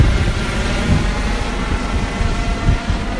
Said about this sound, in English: looks like a helicopter, Coast Guard's flying by here